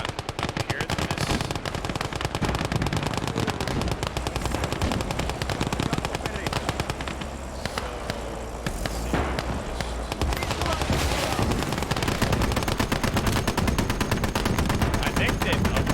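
Rapid machine-gun bursts and rifle shots crackle almost continuously through a World War II battle in the video game Call to Arms: Ostfront, loud and dense with brief lulls and no talk.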